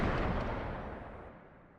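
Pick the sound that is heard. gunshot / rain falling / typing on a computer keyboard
gunshot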